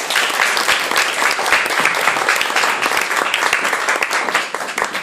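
A lecture audience applauding to welcome the speakers, dense continuous clapping from many hands, loud and steady for several seconds with no pause.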